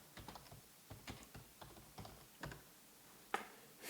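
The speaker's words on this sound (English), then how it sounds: "maybe I just need to type in Futures Lab" Computer keyboard keys tapped in short irregular bursts while entering a studio name, faint and close, with a slightly sharper keystroke near the end and no talking.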